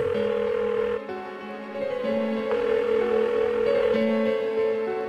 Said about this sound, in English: Why won't she pick up the phone?